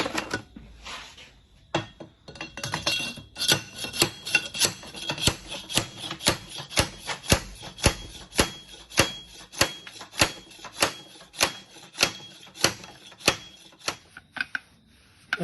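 Hot oil seal spacer hammered down onto a 1975 Series 3 Land Rover differential axle with a bar, a long run of sharp, evenly spaced metallic strikes, loud and close, with no talk.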